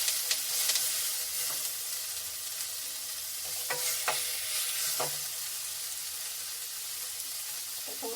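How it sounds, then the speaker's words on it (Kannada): Green chillies and coconut roast in a hot pan, with a constant hiss of sizzling broken by several scraping stirs of the spoon, close and steady. "ಸ್ವಲ್ಪ ಹಸಿಮೆಣಸಿನ್ಕಾಯಿ ಹುರ್ಕೊಂಡು ಸ್ವಲ್ಪ ಕಾಯಿ ಹಾಕಿ ಹುರ್ಕೊಳ್ಬೇಕು"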